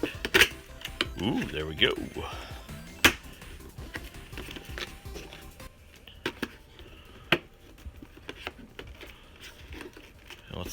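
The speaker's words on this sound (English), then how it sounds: "Let's start by unboxing this thing." Unboxing a Retrobit N64 controller with its tape already cut: cardboard and plastic packaging rustles and slides, with scattered sharp clicks and taps nearby, while someone speaks briefly early on.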